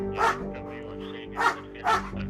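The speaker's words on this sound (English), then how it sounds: "The dog will bark at them when they're staying still." A large police dog barks three times in short, loud, close bursts with pauses between, against a low steady background hum.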